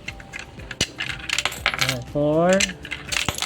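Whole 20-peso coins drop one after another into an Allan universal coinslot during calibration, each landing as a sharp metallic clink; a voice briefly counts aloud between them.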